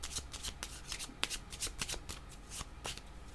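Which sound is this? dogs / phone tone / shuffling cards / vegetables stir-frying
shuffling cards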